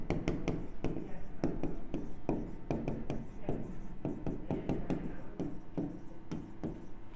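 A pen or chalk scratches out a chemical equation in quick, uneven strokes and taps, close and steady, with faint room noise beneath.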